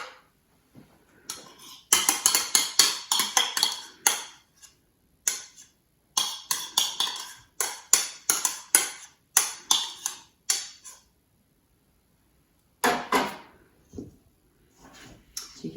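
Spoon clattering against a bowl while mixing flatbread dough with salt and yoghurt, in irregular bursts of quick clinks and scrapes separated by short pauses, close and fairly loud, with no talking.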